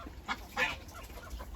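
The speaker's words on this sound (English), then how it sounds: "She's a very gentle, solitary duck." A gentle, solitary duck kept in a polytunnel flock housing gives a couple of short, quiet nasal calls, faint and brief against a low background hum.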